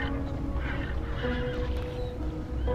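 A horse whinnies while hooves clatter along as it runs in fright, a steady loud rush of galloping under the neighing.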